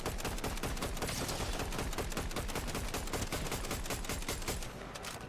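Dense, rapid gunfire from the Fortnite video game, a continuous loud barrage of overlapping shots with automatic bursts running steadily for several seconds, no voices.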